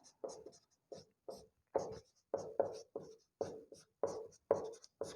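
Chalk or marker writing a definition on a board in a classroom, short scratchy strokes in quick bursts separated by brief pauses, close and clear with no talking.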